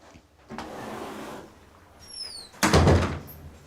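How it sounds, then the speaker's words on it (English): An indoor door swings with a light squeak and shuts with a solid thunk and rattle, preceded by shuffling movement, close and fairly loud. "Can you close the door?"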